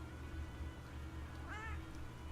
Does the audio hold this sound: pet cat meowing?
yes